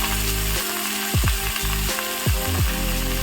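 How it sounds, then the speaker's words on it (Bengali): Beto shak greens hit a hot kadai with nigella seeds and split green chillies, giving a loud, continuous sizzle cut by rhythmic scraping strokes as the leaves are tossed. "এদিকে কড়াই বসিয়ে দিয়েছি, কড়াই গরম হয়ে গেছে, কালো জিরে দিয়ে দিয়েছি, দুটো কাঁচা লঙ্কা মাঝখানে ভেঙে দিয়ে দিয়েছি। এবার কিন্তু শাকগুলো দিয়ে দিচ্ছি।"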